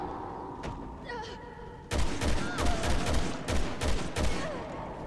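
Gunfire in Resident Evil 6 inside caves: a quiet stretch with a faint shot, then a loud, close series of rapid shots and thumps in uneven bursts, without speech.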